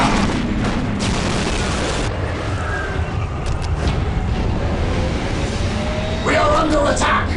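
Gunfire and explosions in a Warhammer 40,000: Dawn of War Dark Crusade battle at an Ork stronghold; a dense, loud wash of booms and rattling shots continues with no gaps, with voice lines mixed in.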